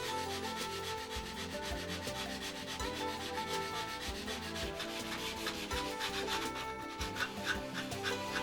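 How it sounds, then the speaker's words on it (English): A wooden block is sanded to match the angle of a model aircraft fuselage, making steady, continuous rasping strokes, loud and close with no pauses. "Sand the block to conform to the angle of the fuselage as shown."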